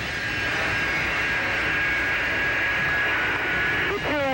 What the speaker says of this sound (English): The two Nightingale, the medical evacuation planes from Frankfurt, Germany, have just arrived here at Algiers Airport.